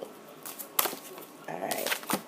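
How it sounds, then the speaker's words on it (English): Tarot cards are shuffled by hand in a few quiet, papery riffling bursts, close and soft in a still room. "Give these cards one more good shuffle"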